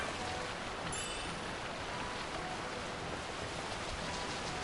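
Heavy rain in Final Fantasy XII, a dense, constant hiss of downpour at steady loudness from start to finish with no voices.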